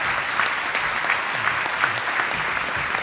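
Audience applause at a First-Year Experience luncheon welcoming Dr. Sampson Davis, continuous dense clapping from a room of people, moderately loud and steady for a few seconds.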